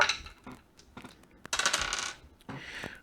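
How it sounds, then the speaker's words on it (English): Several dice clatter and tumble across a tabletop during an ancient-era wargame turn, three distinct rattling bursts close and fairly loud, separated by brief pauses. "So let's roll for the Indian dice."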